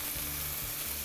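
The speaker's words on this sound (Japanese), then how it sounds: "ではもう一回火をつけて、でこのお肉をまた焼いていきます" Marbled beef searing in a hot frying pan, a steady dense sizzle of fat crackling close by, alone without speech.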